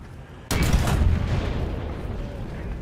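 A tank's ammunition is struck and detonates in a video game, likely the Ho-Ri: a sudden loud, close blast erupts, then a long rumbling roar of fire and debris that holds steady to the end.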